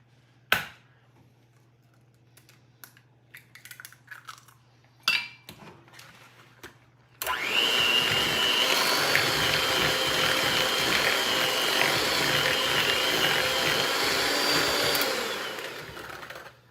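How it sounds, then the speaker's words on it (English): After a few clinks of utensils and dishes, an electric mixer starts beating eggs into creamed butter and sugar, running as a loud, steady whir with rattling in the bowl for about nine seconds before winding down. "I have 4 eggs that I'm going to add one at a time and beat in between."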